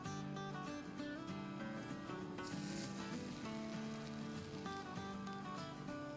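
A ground-meat keema-stuffed naan (kulcha) sizzles steadily after being laid into a hot pan, a continuous close hiss of frying running under loud background music.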